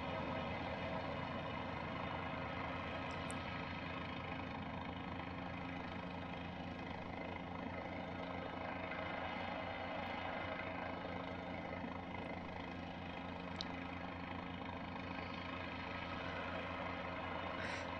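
Cabri G2 helicopter in Flight Simulator 2020 taking off and flying, a steady droning engine and rotor hum holding at an even level throughout, with no talk.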